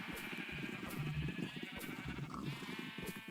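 Sheep in the Minecraft video game bleating repeatedly in short, separate calls over a steady background hum, moderately loud and close.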